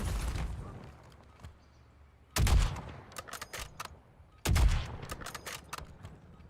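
Call of Duty: Warzone gunfire, with rapid automatic bursts cracking in two loud clusters separated by quieter gaps, plus a dull rumbling shot at the start.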